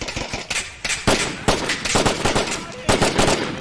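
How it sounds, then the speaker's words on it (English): Rapid bursts of automatic gunfire in the VR shooter Onward rattle on almost without pause, loud and close, broken by short gaps between volleys. "Where's that shot coming from, guy?"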